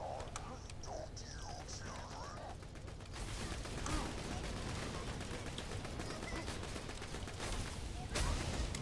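Rapid gunfire from the Fire Infinity pistol in Borderlands 2, a steady stream of quick shots through the second half over busy game noise, with mechanical clatter and faint talk earlier.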